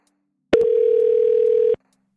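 A single steady telephone tone sounds alone for about a second while calling the New Jersey governor's office, starting and stopping abruptly with no voices over it.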